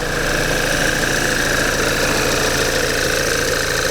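A Volvo V70 petrol flex-fuel car engine idles just after starting, following head gasket work: a loud, steady, close mechanical rumble with a faint knocking texture and no pauses.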